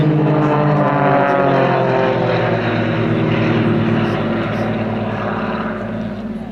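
An Extra aerobatic propeller plane performs at an airshow, its engine roaring loud and close with a steady droning buzz and a shifting pitch as it passes, gradually fading slightly.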